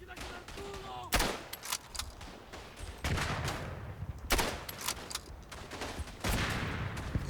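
Rifle shots ring out in the World War I game Verdun: several sharp, loud cracks spaced a second or two apart over a background of distant battlefield gunfire.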